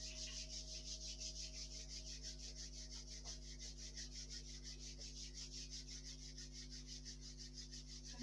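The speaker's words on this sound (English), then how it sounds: "Let's rub the hands together in gratitude." Hands rubbing together during a relaxing yoga session, a quiet, steady, rhythmic brushing of skin on skin that repeats evenly over several seconds against a faint low hum.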